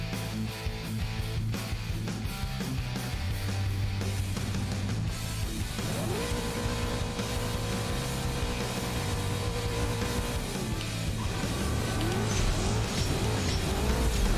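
Cars racing in the mobile drag game CSR2, an opponent's Mazda RX-7 alongside: loud continuous engine roar with rising revs, gear-shift drops and tire squeal, sustained throughout.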